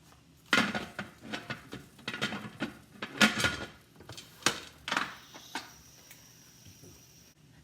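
A metal lid goes onto a Presto 7-quart gauge pressure canner loaded with potatoes, making a series of clanks, scrapes and knocks at close range, then a settling metallic ring and quiet.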